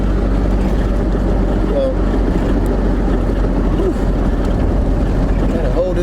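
A 1979 Triumph Spitfire engine runs steadily while driving, a loud continuous low drone with road and wind roar filling the whole stretch; someone briefly speaks over it.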